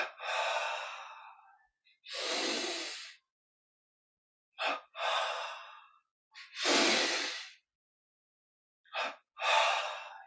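Sharp double inhales followed by long, forceful exhales during a yoga energy-recharge breathing exercise with arms stretched forward, repeated in three close, breathy cycles with silence between them.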